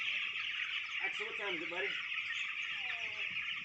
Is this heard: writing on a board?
no